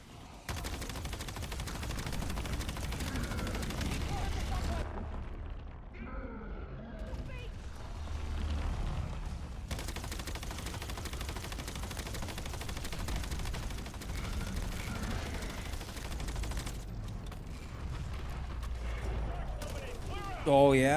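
Sustained gunfire in the video game Call of Duty: Black Ops 7, rapid automatic bursts and heavy blasts rolling almost continuously, with voices shouting over the firefight.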